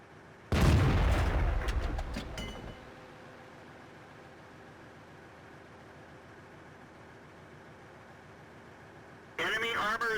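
A StuG III Ausf. B fires in World of Tanks: one loud, close cannon blast with a ringing tail that fades over two seconds, followed by a steady engine drone and a later burst of sound.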